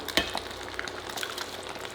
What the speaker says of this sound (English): put the eggs into the same mixture and cook it up most of the way